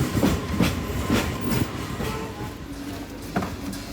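A passenger train runs on rails between stations near Tamluk, giving a continuous rumbling roar with rhythmic clickety-clack of wheels over rail joints, heard from on board and fairly loud.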